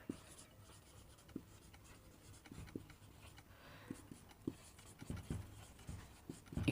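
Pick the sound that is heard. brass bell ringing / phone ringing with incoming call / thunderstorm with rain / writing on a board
writing on a board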